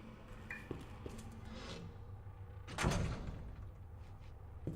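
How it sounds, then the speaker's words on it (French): A door swinging shut on its own in the Resident Evil 2 Remake video game, one solid thud near the middle with faint creaks before it, over a low dark ambient hum. "D'où une porte, ça se referme tout seul."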